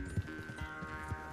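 Horse hooves clip-clop at a steady walking rhythm in Red Dead Redemption 2, each thudding beat clearly spaced and fairly close, layered over a soft sustained tone.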